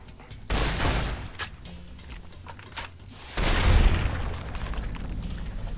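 Video game gunfire in Fallout: New Vegas, loud close bursts of rapid shots and booming impacts, one volley early and a longer sustained barrage near the end.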